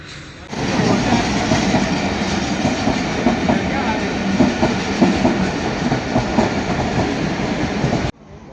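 Inside a moving passenger train, a steady loud rumble of wheels and carriage noise runs for several seconds with rhythmic clickety-clack beats. It cuts off abruptly at the end.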